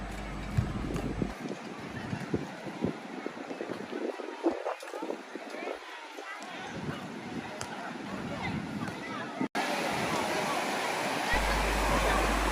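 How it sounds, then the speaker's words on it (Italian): Rough sea waves rolling onto Jesolo Pineta beach, a steady broadband wash of surf and wind with occasional bumps, running throughout while a person talks over it. "ci sono delle belle onde"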